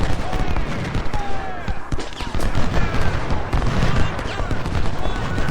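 Dense gunfire from a war video game, with rapid irregular shots and booms crowding together into a continuous loud fusillade throughout, while someone talks over it.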